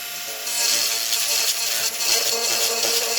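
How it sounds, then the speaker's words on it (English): A rotary tool grinds away plastic on a part from an AMT Opel GT model kit, a steady high-pitched whine running close and continuous with slight wavering as the bit moves back and forth. "And here we go, we're just going to grind away."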